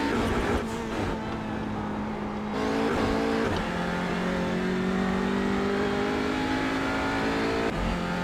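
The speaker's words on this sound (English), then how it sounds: "I'm obviously clearly just on the rev limiter." A TCR touring race car at Imola bouncing on its rev limiter, the engine droning loud and steady with a stuttering buzz, held near and continuous for several seconds.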